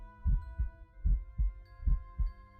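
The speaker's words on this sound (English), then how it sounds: "It was the beating of the old man's heart." A steady heartbeat thumps in low, muffled double beats, six pulses in under three seconds, paced evenly and close, over a faint background hum.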